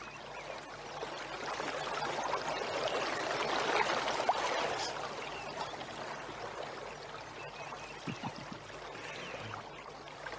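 The current of the Cipunagara river flows in a steady, fairly faint rush of running water, broadband and continuous for the whole stretch, with a few low knocks near the end.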